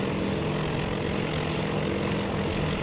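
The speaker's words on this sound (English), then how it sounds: "these dive bombers are soon gonna turn towards it" Propeller-driven dive bombers drone overhead in the naval combat game Task Force Admiral, a continuous dense engine roar that holds steady and fairly loud throughout, with no voices.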